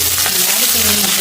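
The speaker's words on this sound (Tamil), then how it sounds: "இப்போ பார்த்தீங்கன்னா வெங்காயம் நல்லா பொரிஞ்சு கொண்டு வந்தது" Onions and green chillies frying in oil in a pan, giving a steady close sizzle with faint stirring that runs throughout without talk.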